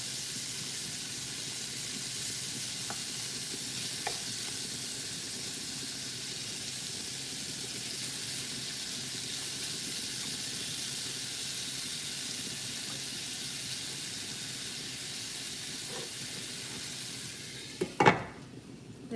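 Pepper steak sizzles in a pan with a steady, even hiss and faint crackles throughout, ending with a brief clatter.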